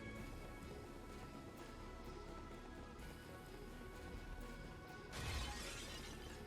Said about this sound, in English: Someone's smashing pots.